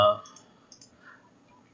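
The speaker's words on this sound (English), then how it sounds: "I'm just clicking on save" A single computer mouse click on save in Salesforce Flow, a sharp close tap at the start followed by quiet, with a couple of faint soft clicks after.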